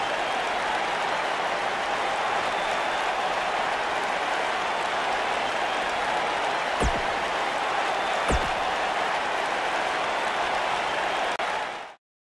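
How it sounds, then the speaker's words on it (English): An arena crowd in the WWE 2K19 wrestling game roars and applauds in a dense, continuous wash, with two sharp thuds partway through before the noise cuts off abruptly. "boy, is this crowd fired up"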